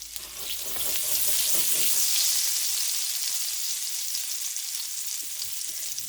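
Butter browning in a pan on the stovetop, a loud steady hiss of sizzling and crackling that swells and then holds evenly throughout, heard alone without voices.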